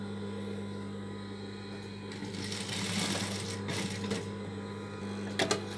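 A sewing machine runs in steady whirring bursts while stitching the side seam of a small child's suit, with a constant motor hum underneath and a few sharper clicks near the end.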